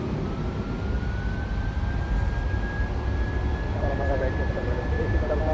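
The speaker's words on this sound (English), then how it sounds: "Take off. Setting thrust." An airliner's engines spool up to takeoff thrust on a Norwegian flight, a loud, steady roar with a rising whine, heard from inside the aircraft.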